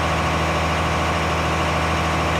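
John Deere 9RX tracked tractor in a modded farming game, its heavy diesel engine droning steadily and loudly with a deep, constant rumble while pulling a disc through a field.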